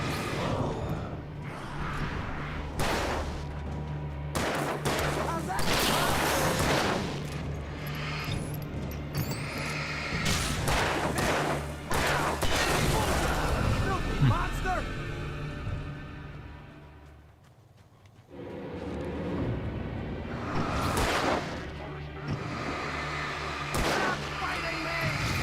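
Heavy gunshots and booming blasts from the horror action game Alan Wake, dense and loud over a constant low hum, with repeated sharp bursts and voices talking throughout.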